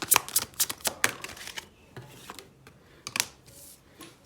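Tarot cards shuffled and drawn, a quick burst of crisp riffling flicks followed by a few scattered soft card slaps and slides, close and fairly quiet, with no voices.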